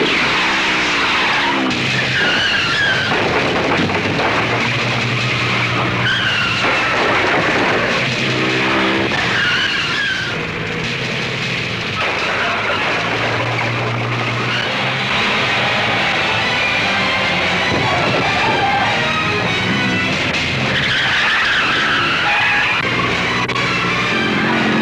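A car chase roars past with loud, sustained engine noise and repeated shrieking tire skids and squeals, continuous and close throughout.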